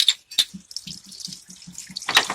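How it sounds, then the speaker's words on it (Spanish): Coolant water draining from the radiator of a Nissan Platina, a loud close splashing stream with a rhythmic gurgling pulse and bright trickling spatter, no talking. "Como pueden observar, ya está saliendo el agua completamente."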